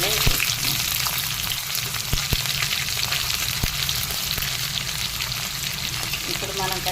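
Sliced onions frying in a pan for a greens curry, a loud, dense, continuous sizzle with a few faint clicks of stirring.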